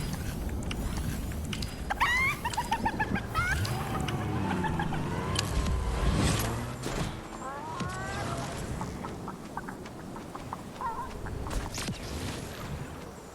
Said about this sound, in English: A glitchy chicken?